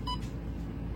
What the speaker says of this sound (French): je vous ai posé sur le réveil et du coup, je crois que j'ai activé un truc